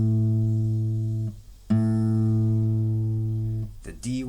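A guitar's A string is plucked and left ringing for tuning, a sustained harmonic tone that is struck twice, decays, then gives way to brief string noise at the end.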